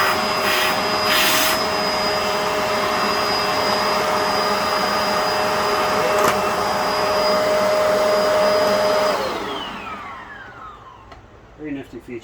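A Bissell Powerlifter 2920 vacuum cleaner runs with a loud, steady whine and a high motor tone. After about nine seconds it switches off and the pitch winds down, followed by a few faint clicks.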